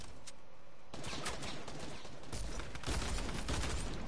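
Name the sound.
gunfire from teammates in a video game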